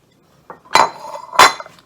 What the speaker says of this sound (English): you're going to stir them all together. I'm just using a spoon.